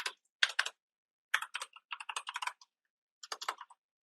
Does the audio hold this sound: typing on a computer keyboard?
yes